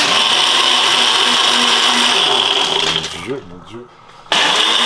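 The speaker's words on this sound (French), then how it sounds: "le bruit du mixeur" A kitchen blender whirs loudly and steadily with a high whine, then cuts out briefly before roaring back up, while people talk over it.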